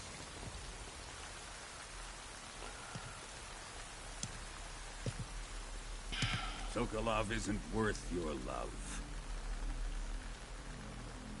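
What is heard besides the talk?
rain falling in Metal Gear Solid Delta video game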